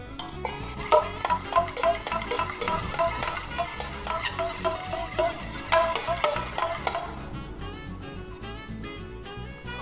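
Eggs whisked for an omelette in a home kitchen with chili powder mixed in, a steady run of quick clicking utensil strokes against a bowl, close and fairly loud, continuing through the clip with a brief pause near the end.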